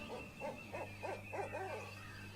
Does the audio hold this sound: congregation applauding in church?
no